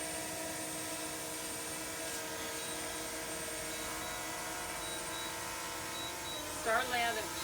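A DJI Mavic Mini drone's propellers hum steadily as it lands, a constant tonal buzz with layered whine, moderately close, and a brief voice near the end.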